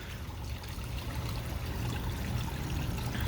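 Steady trickling and splashing of a small waterfall feeding a backyard koi pond, a continuous close wash of running water with no voices.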